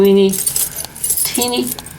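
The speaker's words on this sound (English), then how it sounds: "I have all kinds of keys, ranging from big, huge ones to teeny" A collection of metal keys of all sizes, from huge to tiny, jangles and clinks in bursts of bright metallic rattling, close up, between stretches of someone talking.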